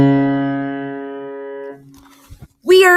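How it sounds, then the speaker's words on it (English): A single held C sharp note with bright harmonics sounds for nearly two seconds and decays, followed by a short burst of speech. "A C sharp would sound like this."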